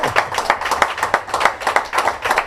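A church congregation claps in a quick, steady rhythm, many hands striking close and loud in repeated bursts, with no talk over it.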